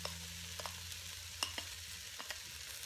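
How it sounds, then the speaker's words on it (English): Green peppers stir-fry in a Ninja Foodi, with a soft continuous sizzle broken by a few light scrapes and clicks of stirring. "I'm now going to add the green peppers"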